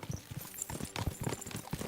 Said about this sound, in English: Let's really spur these horses on, eh?